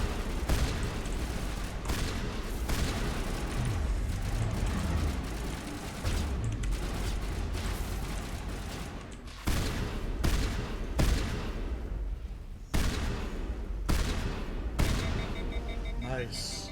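Shotgun blasts in the video game Mass Effect 1, a series of loud, sharp gunshots fired in irregular bursts, some rapid and some spaced apart, over a constant rumbling game soundscape with voices talking in the background.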